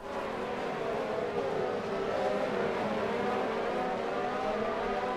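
Race car engines in the F1 2019 video game at the Baku circuit, a steady, loud high-pitched whine of cars running close together with slight rises in pitch as they accelerate, no voices.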